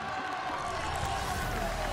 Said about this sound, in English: The crowd is going absolutely wild.